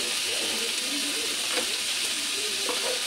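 Meat fries in a pan for a Filipino sotanghon con carne, giving a loud, dense, continuous hissing sizzle close up, with faint talk beneath it.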